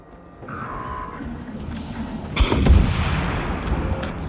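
A single heavy gunshot from a rifle in the video game Generation Zero, a loud booming crack with a short rumbling tail, heard close over faint background ambience.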